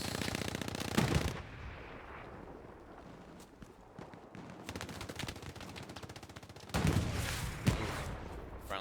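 Rapid bursts of automatic and rifle gunfire in the World War II shooter Hell Let Loose, D-Day setting, loud at the start, quieter scattered shots in the middle, then another heavy close burst near the end.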